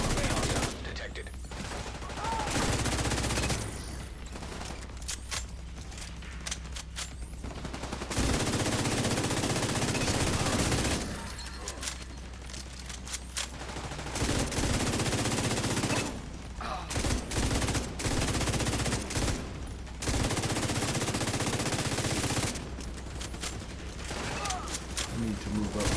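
Gunfire in The Division 2: repeated loud automatic bursts and rapid volleys come in several long stretches, separated by quieter gaps of ambient noise, with occasional speech mixed in.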